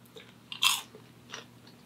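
Someone bites into caramel popcorn: two crisp crunches close to the mouth, the first louder, over a quiet background with no talking.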